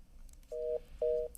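Phone line tones on a repeatedly dropping call: two steady electronic beeps of equal length, evenly spaced, over faint background hiss, with a brief click at the end.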